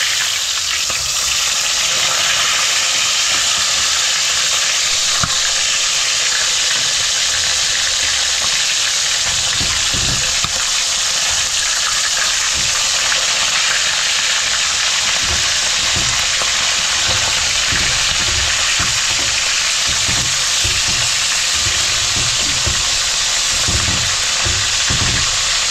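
Fish frying in a pan in a Philippine home kitchen, a loud, steady sizzle and crackle of hot oil running throughout, with occasional soft clinks and stirring.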